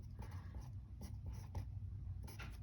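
Pen scratching out figures for a photon energy calculation, a steady run of short strokes and taps at close range with no talking.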